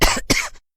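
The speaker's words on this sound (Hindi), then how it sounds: "मोना जोर जोर से खांसने लगी और उसका दम घुटने लगा" A woman coughs twice in close succession, two harsh, loud bursts from choking on chilli smoke filling a house, then silence.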